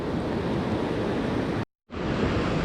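Steady, loud roar of ocean surf and waves breaking on an Oregon beach, a continuous broadband wash with no voices, cutting out briefly near the end before resuming.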